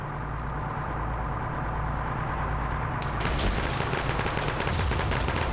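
Rocket launches and gunfire in an Arma 3 mechanized PvP battle, a dense continuous rumble of fire with a sharper, louder burst of blasts midway through.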